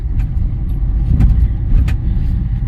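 A car engine hums steadily and loudly from inside the cabin while driving, a low continuous drone with a few light rattles and clicks as gears change.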